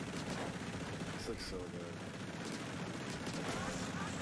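Rapid cannon fire from the crab tank's special weapon in a video game, a dense continuous burst of gunfire-like blasts running throughout, with a person talking over it.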